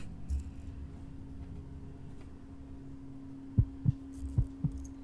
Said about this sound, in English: Dang, already with the heartbeat?